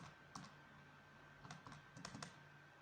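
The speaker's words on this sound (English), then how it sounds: "Type that into the calculator. Listen to me doing it." Several quick, light key presses on a calculator come in small clusters, faint and close, with a steady low hum behind them and no talking.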